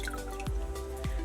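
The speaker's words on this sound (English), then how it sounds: "Squeeze it out a little bit." Wet cleaning cloth wrung out over a small clean bucket of water, giving a couple of soft squishing squeezes with dripping water falling back into the bucket, close and quiet.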